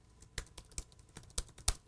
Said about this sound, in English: like Jared typing right now while I'm doing this